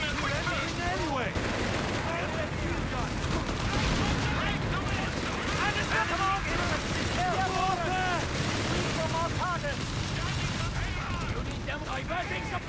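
Infantry gunfire in Company of Heroes 3, dense overlapping bursts and rattling shots forming a continuous loud battle din, with voice callouts over it.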